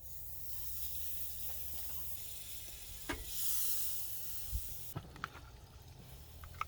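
Pancake batter sizzles faintly on a camp griddle during an overnight tent camping trip, a soft steady hiss broken by a few clicks and taps of a utensil, with no talk.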